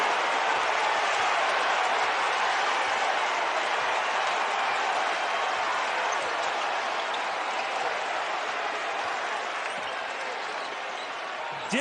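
A basketball arena crowd at a college game between Eastern Michigan and No. 22 Michigan roars and cheers in a sustained, loud, broad wash of noise that holds steady for the whole stretch.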